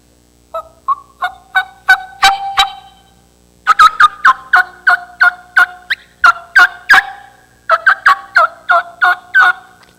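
A wild turkey gobbles loudly and close in three bursts of rapid, rattling calls, each burst made of quick repeated pulses with short pauses between them and no voices over it.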